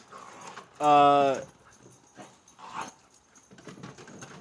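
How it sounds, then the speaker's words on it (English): A YouTube recording of dogs fighting, played from a soundboard: one loud, strained canine yelp or whine stands out, then fainter growls and snarls follow under a talking voice. "I'm playing YouTube dogs fighting."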